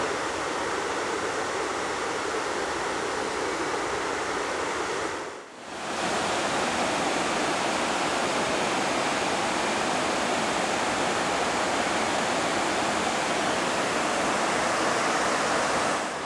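Water rushes through the Diglis Fish Pass on the River Severn at Worcester as a loud, steady broadband roar. It cuts out briefly near the middle, then returns unchanged.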